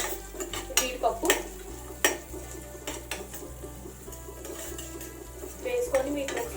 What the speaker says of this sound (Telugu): వీటిని ఒకసారి బాగా కలుపుకోవాలి. లైట్ గా వేయించుకోవాలి.